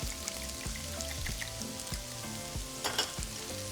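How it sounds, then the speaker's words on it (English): Minced garlic fries in a pan with a dense, steady sizzle that does not let up. Faint tonal music plays underneath. "add your minced garlic. And just give it about 30 seconds"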